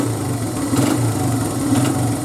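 A 2002 Honda XR100R motorcycle engine runs steadily after warming up, following recent carburetor trouble, with a close, loud, even putter and two slight rises in revs and no talk.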